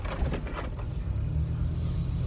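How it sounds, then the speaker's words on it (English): A car rolls slowly over brick paving while parking, giving a steady, close low rumble of tyres on uneven bricks with a faint rattle throughout. "I'm holding my mirror because I'm driving on bricks now."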